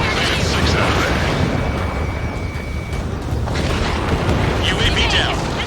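A UAV exploding in the flight combat game Ace Combat 7, a broad rumbling blast with sustained roar, mixed with jet and battle noise in a dense, loud soundscape.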